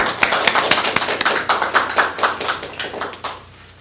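Audience applause welcomes a speaker at a talk on cystic fibrosis pharmacy care: steady, close clapping from a crowd of hands that fades out after about three seconds.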